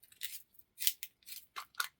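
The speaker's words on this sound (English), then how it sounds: "we're gonna do a little bit of a thing called sharpen the pencil" A pencil being sharpened gives short, quiet scraping rasps, about six separate strokes in two seconds, close and alone.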